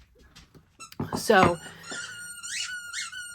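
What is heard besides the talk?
dog's squeaky toy squeaking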